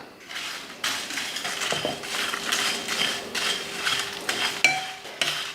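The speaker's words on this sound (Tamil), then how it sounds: "எல்லாத்தையும் ஒன்றாவே போட்டு வறுத்துக்கலாம்." Dry spices such as kasuri methi, Kashmiri chillies and bay leaves toast together in a pan, with scraping, stirring strokes and light rattling against the metal, close and fairly quiet.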